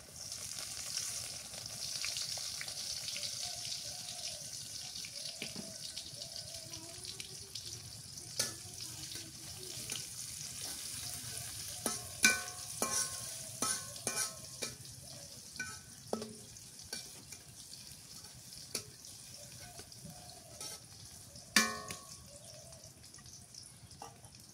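Chopped onion fries in a pan for a goat curry with green banana, giving a quiet, steady sizzle through the whole stretch, broken by scattered light clicks and scrapes of stirring.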